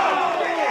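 A football crowd at a grand final roars in reaction to a player, a brief, dense wash of many voices shouting and jeering at a distance.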